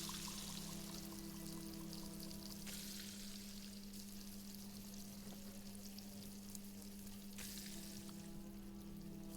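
Pan frying food in the video game Arctic Eggs: a steady, continuous sizzle with a low constant hum underneath, a few brief brighter bursts, no talk.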